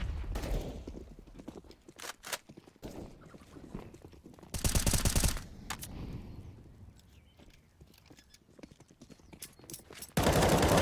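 Rapid automatic gunfire in a Counter-Strike: Global Offensive match on the Inferno map, repeated loud sprays and bursts of shots with clattering steps between them, mixed with game ambience.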